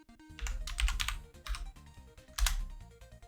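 Bursts of clicky keystrokes on a computer keyboard, typed in quick irregular runs with short pauses between, close and fairly quiet, no voices.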